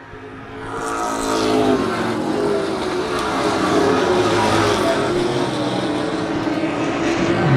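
Pro stock race cars near the end of a race swell from a softer start into a loud, sustained engine roar as the pack sweeps past on the track, with rising and falling pitch and no talk.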